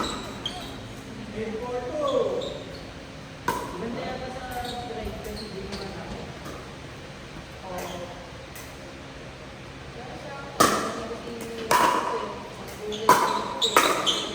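Pickleball paddles striking the ball dead center in a match, several sharp hollow pops spaced irregularly, the last few in a quick cluster, over steady court ambience with people talking.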